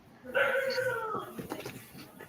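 A dog lets out a drawn-out, whining, high-pitched vocalization lasting about a second, close by, followed by faint rustling and some background noise.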